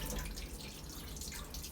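Murky rinse water drains off sushi rice in a steady, gentle trickle and splash, close and continuous at low volume, without any talk.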